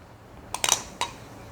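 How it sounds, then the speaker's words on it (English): Chopped pecans dropped into a mixing bowl while baking banana pecan bread, heard as a short cluster of light, sharp clicks and rattles, followed a moment later by one more small clatter, close and fairly quiet. "Next, we'll put my chopped pecans in here."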